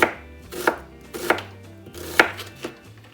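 A kitchen knife chopping food on a cutting board while preparing goulash and cornbread, with several sharp, separate strikes at an uneven pace, close and clear with no voices.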